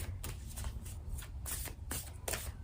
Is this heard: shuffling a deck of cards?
yes